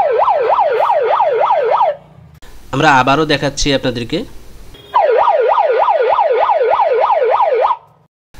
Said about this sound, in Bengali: এটি পুলিশের বা গাড়ি বা অ্যাম্বুলেন্সে যেভাবে সাউন্ড দেয় সেভাবে এটা কার্যকর